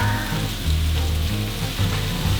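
Tomato stir-fries in a wok with garlic and onion for a tomato-and-egg dish. It gives a loud, steady close sizzle with a low bubbling rumble that swells and eases in waves, and no voices.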